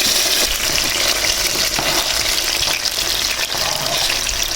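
Chopped tomatoes dropped into hot oil in a pan, a loud, dense, continuous sizzle and crackle close up with no voices.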